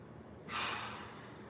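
A single deep breath during a mobility exercise, a sudden loud airy rush that swells and slowly fades over a low steady background hum.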